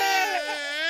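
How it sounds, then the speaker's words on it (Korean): An infant wails loudly and continuously up close, a single sustained high-pitched cry with no pauses and no other voices over it. "쥐가 아기의 침대까지 올라가 아기들의 울음소리가 끊이지를"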